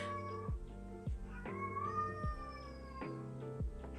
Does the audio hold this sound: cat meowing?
yes